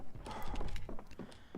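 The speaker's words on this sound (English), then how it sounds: "You can hear him thumping outside." Zombie thumping on a fence outside in Project Zomboid, a series of dull, irregular knocks at moderate distance, repeating roughly every few tenths of a second with no talk over them.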